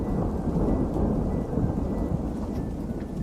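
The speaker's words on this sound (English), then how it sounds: "The thunder's the loudest part of this game" A heavy in-game storm in Outbound: a continuous low rumble of thunder blended with a thick wash of steady rain, loud and near for the whole stretch, with no voices.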